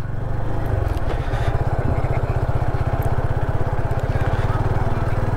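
Yamaha FZ25 motorcycle running during a test ride at a bikers' meetup, a steady loud low engine thrum with rapid even firing pulses throughout, close and continuous with wind noise over it.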